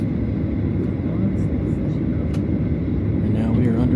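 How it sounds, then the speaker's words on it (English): Inside an airliner cabin, a steady low engine rumble builds as the airplane prepares for takeoff, with a faint voice talking over the drone. "And now we are underway to take off."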